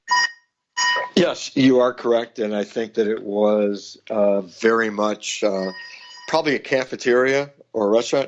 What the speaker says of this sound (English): oops, sorry for that phone in the background.